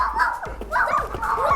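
Young children imitate a dog with a series of short, high yipping barks and whimpering yelps, several voices overlapping in quick bursts, close and fairly loud.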